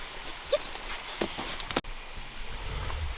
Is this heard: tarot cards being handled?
no